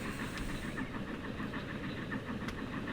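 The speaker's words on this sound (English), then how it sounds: "We're following a GWR train today" A GWR train in the video game Transport Fever 2 gives a faint, steady rumble with regular rhythmic clatter from the wheels, heard alone and at a distance, with no speech.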